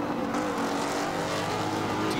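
Race cars at the Grand Prix de Trois-Rivières street circuit give off a loud, continuous engine roar that fills the whole moment with dense mechanical noise.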